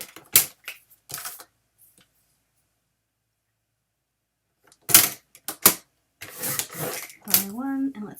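Paper trimmer slicing strips of paper for a mini album, several sharp clicks and brief cutting strokes separated by silence, with a voice speaking near the end.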